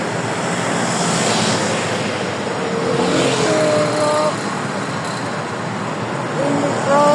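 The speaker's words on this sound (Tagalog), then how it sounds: "When we cross the road, because so many motorcycle like this." Busy road traffic with many motorcycles passing close by, a steady loud roar of engines with rising and falling whines as bikes go past.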